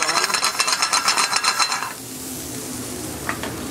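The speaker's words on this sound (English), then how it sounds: "the mushrooms that we just got done sauteing" Mushrooms sizzle in a pan in an Italian kitchen, with a steady rhythmic scrape and clatter of stirring for the first couple of seconds, then a softer continuous frying hiss with a faint metallic clink.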